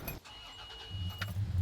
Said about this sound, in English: And let's try to start the truck.